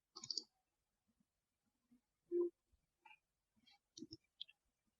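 Mouse clicks on a computer during software modelling work, a few sparse, quiet clicks including a double click, separated by silence with faint incidental noises.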